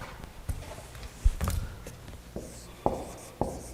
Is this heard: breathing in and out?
no